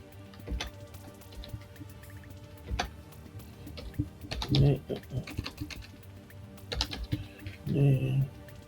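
Someone types on a computer keyboard in irregular bursts of clicky keystrokes, close and moderately quiet, with a few louder thumps and brief voiced sounds mixed in.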